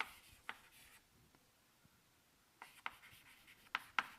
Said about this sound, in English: just let me write this out real quick